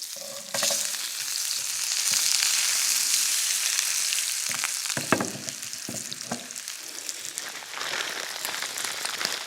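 Two lengthways-sliced pieces of food frying in a pan in a stable, a steady close sizzle with occasional louder crackles and stirring clicks throughout.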